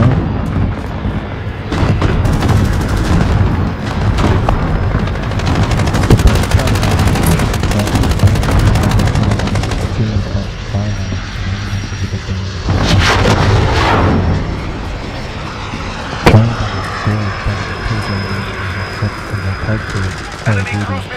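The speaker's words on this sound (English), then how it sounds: "Allied cluster strike inbound" An allied cluster airstrike in a military video game: loud, dense rolling explosions and rapid booming fire with aircraft roar, continuous and close, then a sharp blast near the end, with voice callouts mixed in.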